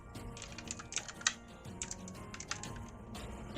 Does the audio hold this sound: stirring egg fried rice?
no